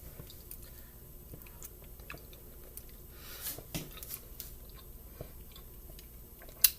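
Someone chews chayote chowder over rice close to the mic, soft wet bites and mouth sounds scattered over a quiet background, with a sharper click near the end.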